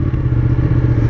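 A 2017 Ducati Panigale 959 sport motorcycle engine runs steadily and loudly close by, a deep, continuous throbbing drone with faint clatter and no voices.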